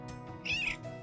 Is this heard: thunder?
no